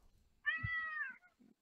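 A single drawn-out cat meow, close and clear, rising and holding for about three-quarters of a second before trailing off, with faint low thumps around it.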